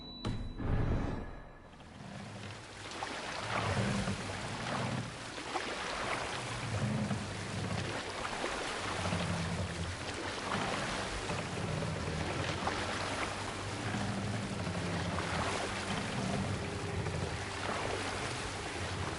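A sailing boat cuts across open water in Assassin's Creed Valhalla, with a steady wash of waves and wind rushing continuously, a loud thump at the start, then low rhythmic swells beneath.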